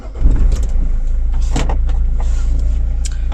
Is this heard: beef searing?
no